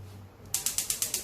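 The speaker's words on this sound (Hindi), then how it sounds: "चलें व्यूवर्स मैं अपना स्टोव ऑन कर लेती हूँ।" A gas stove being switched on in a home kitchen, giving a quick series of about seven sharp, evenly spaced ratcheting clicks from the igniter, close and fairly loud after a brief quiet moment.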